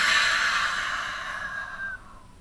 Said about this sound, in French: on va prendre une toute dernière profonde inspiration par le nez. Profonde expire par la bouche.